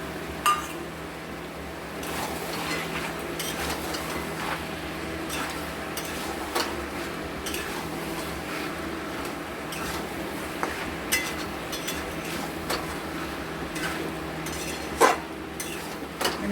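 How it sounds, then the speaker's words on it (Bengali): Chicken being stirred with ground cumin, coriander, Kashmiri chili, turmeric, black pepper and chicken masala in a pot, giving soft, irregular scraping and light metallic clinks of a spoon against the vessel, close and fairly quiet, with no talking. "ভালো মতো করে মিক্সড করে নেব।"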